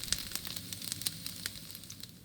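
Tofu fries in a pan with a quiet, steady sizzle and scattered small pops and crackles, close and fairly faint.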